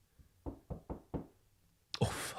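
Knock at a door in a track, four evenly spaced hollow raps followed by a sudden burst of louder, hissing sound after a short pause.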